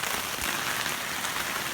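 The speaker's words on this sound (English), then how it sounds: "this rain is just not letting up" Heavy rain pours steadily on the roof and surfaces of a greenhouse on an off-grid property, a dense, unbroken hiss with no gaps or voices.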